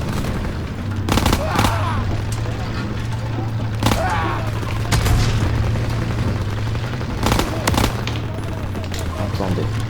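Gunfire during a game session with smoke grenades, heard as several sharp broadband cracks spread across the span, a few close together, over a steady low engine-like hum and under continuous background noise and voices.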